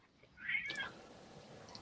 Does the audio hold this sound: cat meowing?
yes